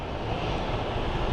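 Jet airliner bound for Salt Lake City at Phoenix Sky Harbor International Airport, a steady loud broadband engine roar held throughout without pause, with no talking over it.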